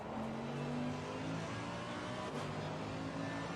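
A race car in Assetto Corsa Competizione at Bathurst drives through a left-hand corner toward the last corner, its engine droning steadily and close with a shifting pitch, no talking over it.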